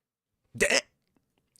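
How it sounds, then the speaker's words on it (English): A single short hiccup burst, fairly loud and close, followed by near silence with only faint small clicks. "I got the hiccups"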